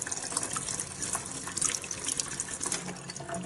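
Water pouring steadily from the spout of an Olvy 1.7 L cordless electric kettle, a continuous close splashing gush with no talk over it.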